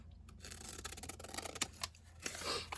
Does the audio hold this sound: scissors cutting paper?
yes